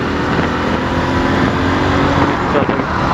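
After the shift into third gear, a motorbike engine runs at a steady, loud, close drone with wind rush over the microphone and no clear talk.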